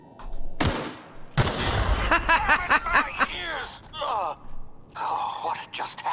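Gunfire from the sci-fi shooter game The Outer Worlds: sharp bursts and rapid volleys of shots mixed with game effects and clattering, fairly loud and close throughout.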